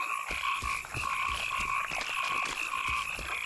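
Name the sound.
frog chorus croaking in a swamp, from video game The Witcher 2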